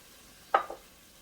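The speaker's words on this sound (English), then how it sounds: "Stir that a little bit." A spoon stirs diced tomatoes and tomato sauce in a pot of homemade beef stew, giving one brief soft wet scrape followed by a smaller second swish in a quiet kitchen.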